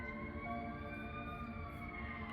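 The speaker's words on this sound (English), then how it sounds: "I don't know if you could hear the ambulance." An ambulance siren wails faint and distant in the background, its steady rising and falling tones sustained across the short stretch. No one speaks.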